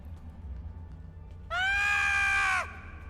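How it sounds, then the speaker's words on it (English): Quark, the Ferengi barkeep in the Star Trek Online video game, lets out one high, wavering scream about a second long, loud and alone over a low game-ambience hum. "Quark is screaming"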